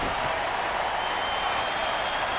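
A wrestling crowd cheers and applauds in a steady, dense roar that fills the whole stretch without a break.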